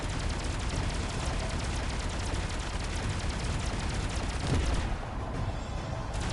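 Dense, continuous gunfire in the Halo Campaign Evolved video game, a steady roar of rapid shots and bursts with no pause, loud and close, with a slight swell of booming impacts toward the end.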